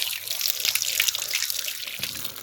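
Cold water pours from a village tap for washing hands and face on a chilly morning, a close, continuous hissing splash with small drips and splatters and no voices.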